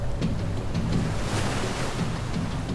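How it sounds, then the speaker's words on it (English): Storm waves surge and crash around a ship at sea, a steady, dense roar of surf and wind buffeting with no voices. "waves crashed over the ship."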